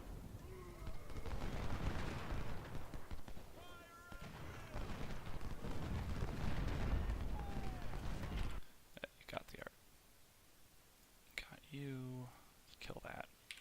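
Gunfire in a Stones River Civil War video game battle: dense rumbling volleys of rifle and artillery fire, then a run of sharp separate shots, with faint voices mixed in.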